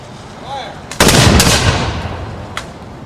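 A mounted dragoon troop fires a rifle volley: one loud, sharp crack of massed shots bursting out at once and rolling away, with a single fainter report a moment later.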